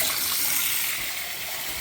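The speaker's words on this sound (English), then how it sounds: "I'll fill up the sink this way and let it cascade over, waterfall over." Tap water pours steadily into a sink, filling it and spilling over the edge in a continuous close rushing wash with no talking.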